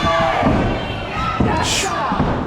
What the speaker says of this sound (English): Another big body slam.